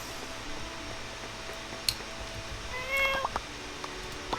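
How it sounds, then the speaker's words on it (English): A cat meows in the video game My Time at Portia, a few short faint mews and chirps over a quiet hum of background noise. "Chat with the cat."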